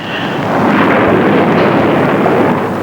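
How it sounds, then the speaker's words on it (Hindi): A big storm rolls in as a deep, continuous roar of wind and thunder-like rumble, loud and close, with no break and no voices. "बहुत बड़ा तूफान आ गया है।"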